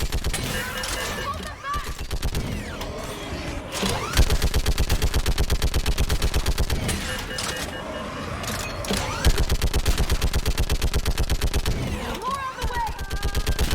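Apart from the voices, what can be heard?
gunfire in the video game Mass Effect 3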